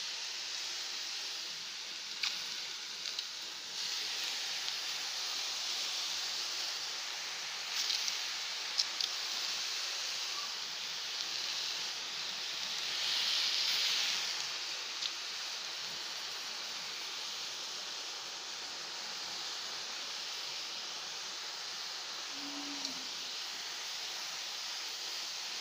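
Milk poured over a hot mixture in a pan, giving a steady, close hiss and sizzle that continues unbroken throughout with no voices.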